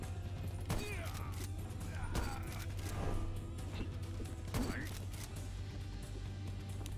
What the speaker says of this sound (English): the rifle just like shoots through I see. people, so it's just incredibly lethal all the time